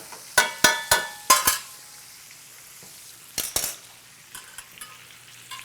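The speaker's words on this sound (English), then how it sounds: "And now with the roasted garlic, with the whole cloves of garlic roasting in it, slowly bleeding flavor into the butter." A steak sears in brown butter with whole garlic cloves, but the pan sizzle stays faint under a quick run of sharp metallic taps and scrapes from a utensil against the pan, then a pause and a few softer clinks.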